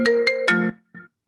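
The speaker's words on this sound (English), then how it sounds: "Pardon my computer phone." A computer phone ringtone chimes during a board meeting in three quick melodic bursts followed by a short fainter echo, heard alone with no talk over it.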